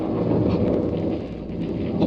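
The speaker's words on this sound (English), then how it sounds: "Then I realized it was thunder. A heat storm was breaking." Low rolling thunder from a breaking heat storm rumbles steadily for a couple of seconds, a dense continuous roar with a faint wash of rain and wind on top, presented as a radio drama sound effect.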